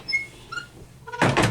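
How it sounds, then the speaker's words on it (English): A vented hotel room door in a Courtyard by Marriott suite being pushed shut, a couple of faint squeaks followed by a louder rattling, scraping close at the end. "These doors are a bit hard to close."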